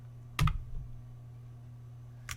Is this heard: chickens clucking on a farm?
no